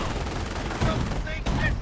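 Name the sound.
half-track quad .50 cal machine gun firing, from video game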